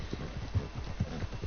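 Horse hooves clip-clop at a walking pace in Red Dead Redemption 2, soft rhythmic thuds repeating steadily under a constant low hum.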